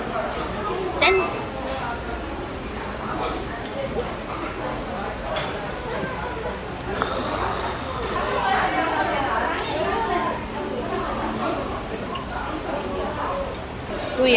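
Glasses clink in a toast over soju and pollack roe stew at a Korean restaurant, a bright short chime near the start followed by a fainter one, set against steady talk and background chatter.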